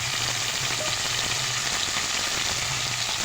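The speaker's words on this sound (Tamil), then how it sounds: "போட்டு வதக்கிக்கிறோம்." Tomato and fennel sauté in hot oil for a fish curry, a loud, dense, unbroken sizzle throughout with no voices.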